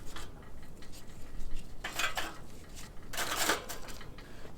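A metal spin grate set down on a charcoal grill basket holding hickory chunks outdoors, giving two bursts of metallic clanking and rattling with quiet handling between.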